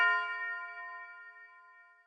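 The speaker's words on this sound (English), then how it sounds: "But this one just hits on the A sharp 4 times." A sampled tubular bell struck once on A sharp in a beat production, a clear bright metallic tone with ringing overtones that decays slowly across the clip.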